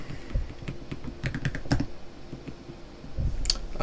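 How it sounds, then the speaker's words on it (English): A password being typed on a computer keyboard: a quick run of sharp key clicks in uneven bursts, some louder strokes clustered in the middle, with a brief pause before a final few taps. "I'm typing it."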